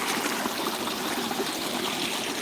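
River in a beaver-dammed prairie flowing steadily, a loud close rushing and gurgling wash of water with no break.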